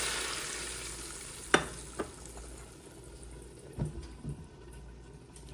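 Sizzling hiss of a hot fried mixture poured into a pot of dhal, fading after a burst, with a few clanks of a spoon or lid and soft stirring sounds close by.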